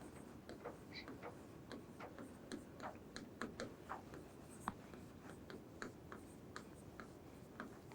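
Pen or pencil writing connecting words by hand on paper, a steady run of soft scratchy strokes and small taps across the whole stretch, close and quiet with no talking.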